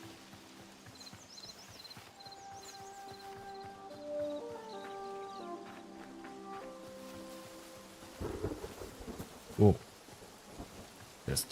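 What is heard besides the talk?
thunder in the video game Hytale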